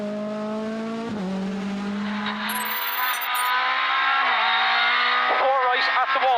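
A rally car competes on a night stage of a historic rally in Killarney, its engine holding a steady drone that rises and shifts pitch as it works through gears, with a co-driver's voice reading pace notes over it.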